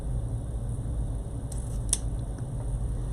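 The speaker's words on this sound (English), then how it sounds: "let's trim off our tail" Scissors snipping off the tail of red ribbon while making a Christmas bow, a couple of soft, close cuts over a steady low room hum.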